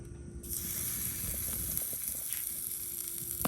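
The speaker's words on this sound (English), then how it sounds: "Listen to the sear." A piece of drop ribeye steak searing over radiant heat on a live fire grill, a steady loud sizzle and hiss close up, continuous with small crackles and pops throughout, and no talking.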